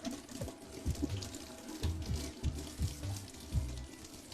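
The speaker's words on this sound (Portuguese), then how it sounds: "No caso dos legumes com casca, basta lavar em água corrente usando uma bucha." Tap water runs steadily over unpeeled vegetables scrubbed with a sponge in a sink, giving close splashing and gurgling with repeated rubbing pulses, no voice.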